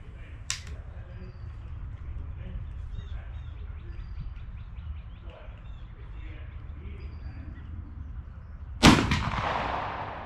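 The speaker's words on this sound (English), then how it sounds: "I'm going to be shooting the pattern 1851 Enfield" A Pattern 1851 Enfield rifle loaded with a .58 caliber round ball and 65 grains of powder fires one loud, sharp outdoor shot near the end, followed by a rolling echo. Birds chirp faintly and an earlier crack sounds before it.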